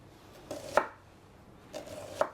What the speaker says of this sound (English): I'm just going to cut it lengthwise here and to even pieces all the way around